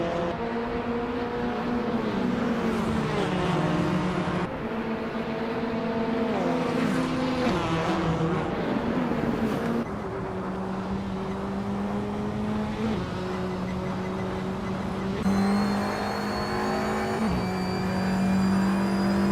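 A 2015 SEAT Leon race car in a racing video game holds a loud, steady engine drone, its pitch climbing through gears with sharp drops at each upshift over about twenty seconds.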